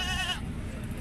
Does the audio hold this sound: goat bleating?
yes